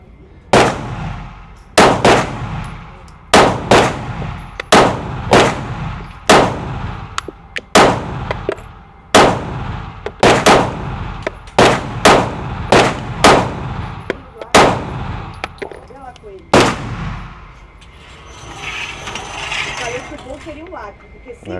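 A handgun with both a grip safety and a trigger safety fired at a paper target, about fifteen sharp, loud shots in an uneven steady rhythm, close by, with a soft rustle after the last round.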